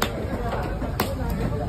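A knife chops through fish at Kasimedu fish market, with steady wet cutting strokes and one sharper blow near the middle, set against a busy, noisy market background with people chattering.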